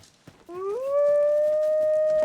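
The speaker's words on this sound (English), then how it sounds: "I did hear wolves" A single wolf howl in the video game Dragon's Dogma 2 rises in pitch, then holds a long, clear, steady note after faint scattered background sounds.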